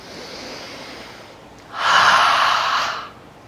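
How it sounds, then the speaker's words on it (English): A loud cleansing exhale during a yoga session, one long breathy rush of air through the nose and mouth lasting over a second after a quieter background hush. "Cleansing breath."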